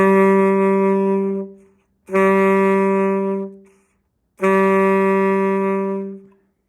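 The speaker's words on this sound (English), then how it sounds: "Let's go over our second note, which for tenor sax that I want you to do is A" A tenor saxophone plays the note A three times, each held steady for over a second, with short silences between.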